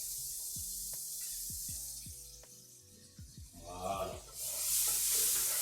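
Onions hit a hot frying pan and break into a loud, spreading sizzle that swells to a steady hiss, with a brief spoken word and some kitchen clatter before it.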